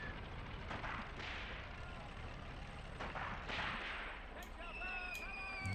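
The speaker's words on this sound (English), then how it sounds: "machine guns over here" Sharp cracks and scattered bursts of gunfire amid battle noise in Tank Warfare: Tunisia 1943 on Longstop Hill, several distant reports popping irregularly over a constant rumbling backdrop.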